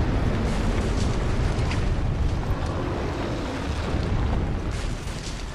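A sustained, rumbling roar of explosive bursts and fiery blasts from a dragon attack in Dark Souls II's Dragon Aerie, dense and loud with a few sharper pops rising through the din.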